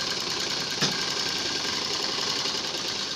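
A domestic sewing machine runs steadily while stitching a kurti, a continuous close mechanical whir with even rhythm and a brief click near the start, with no talking.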